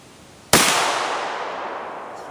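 A Remington Mohawk 48 shotgun fires a single loud, sharp blast outdoors, followed by a long fading echo rolling away across open ground.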